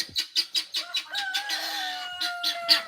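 Marmalade, a bird at an animal sanctuary, calls loudly in a rapid series of sharp, rhythmic squawks that swell into a long, sustained crowing cry, then breaks back into quick bursts, close and alone.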